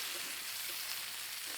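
Calamari pieces frying in hot oil, seasoned with salt, pepper and lemon, give a steady, fairly quiet sizzling hiss that holds even throughout, with no voices over it.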